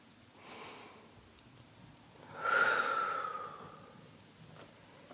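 Two slow, deep breaths drawn in and pushed out through the mouth during a gentle yin yoga pose, soft and close, the second exhale louder and longer.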